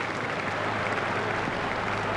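A cricket crowd at a one-day international applauds, giving steady, dense clapping across a large stadium without a break.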